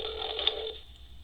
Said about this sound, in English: if somebody is calling your phone